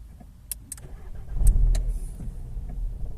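A 2019 VW Polo GTI fitted with a Ghost 2 immobiliser is cranked, giving a short low engine surge that quickly fades, with a few clicks and relay ticks nearby and no talking.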